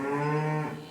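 Charolais cattle on a drought-hit farm let out a single long, loud moo, steady and close, fading toward the end with no voices present.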